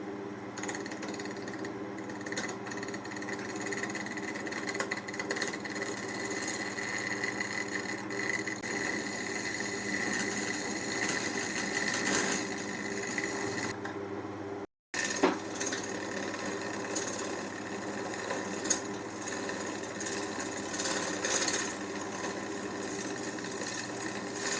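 A woodturning lathe turns a laurel piece while Milliput is cut down, giving a steady, close mechanical drone with a buzzing tone. The drone breaks off briefly midway, then resumes.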